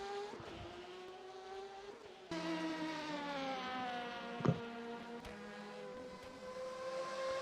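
Race car engines in a sim racing game, a Porsche among them on an endurance run at Sebring, hold a steady, sustained drone with shifting pitch throughout, plus a brief sharp burst near the middle; no one talks.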